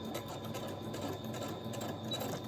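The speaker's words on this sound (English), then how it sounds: "So I'm back stitching right here where the pocket edge is." A sewing machine runs steadily while back stitching at the edge of a pocket, a continuous close whirring hum with a rapid needle rhythm and no voices.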